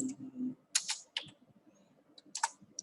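Computer keys tapped while working in an Excel spreadsheet, a few sharp clicks in short clusters with one firmer press standing out, close and fairly quiet with no talk.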